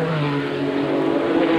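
Formula Holden race cars at the 1989 Australian Grand Prix, a steady loud engine drone with rising revs from cars racing close together, continuous through a short stretch.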